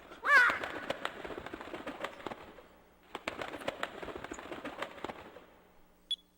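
Squawking and fluttering of Gilder's bird arriving in the video game Skies of Arcadia, a loud call at the start followed by rapid crackling flaps and chirps in two bursts, ending with a sharp single note.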